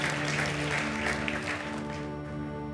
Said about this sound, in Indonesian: Berikan sorak-sorak yang paling meriah buat Tuhan kita.